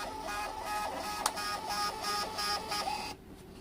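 An all-in-one thermal printer runs a test print, giving a steady whirring feed with a rhythmic pulsing pattern and one sharp click, then stopping abruptly before the end, close and fairly loud with no talking.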